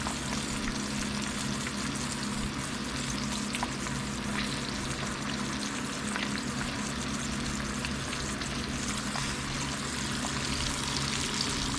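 Bream fillets fry in hot oil in a full pan, a steady close sizzle and crackle that continues evenly without pause.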